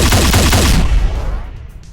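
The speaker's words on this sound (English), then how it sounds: "It fires 3 plasma balls in a triangular formation and could really mow down a lot of enemies" A video-game plasma gun firing three plasma balls in a triangular formation in rapid, loud, buzzing pulses that stop abruptly and leave a fading tail.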